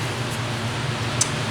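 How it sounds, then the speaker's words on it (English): Steady broadband whoosh of an electric fan running in a home workshop during a power seat gearbox repair, constant and unbroken throughout with no talk over it. "As always, I apologize for the fan"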